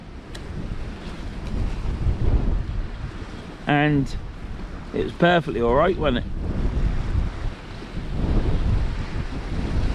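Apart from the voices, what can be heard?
wind on the north bank of the river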